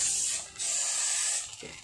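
Freeze spray hisses onto a Vespa scooter engine bearing in two close bursts, the first brief and the second longer, followed by faint mechanical clicks as the can is handled.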